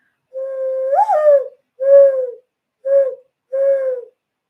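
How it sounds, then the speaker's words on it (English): An owl call: four clear hooting notes, the first longer with a wavering rise, then three shorter ones spaced about a second apart, loud and close against silence. "It's an owl call."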